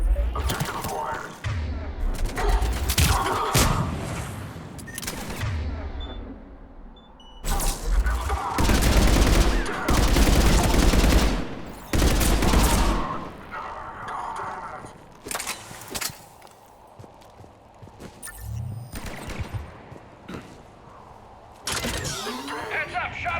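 Heavy gunfire in the video game Mass Effect 3, with a mounted gun firing in long, dense bursts among other weapons and booms, punctuated by quieter gaps as the battle rages on.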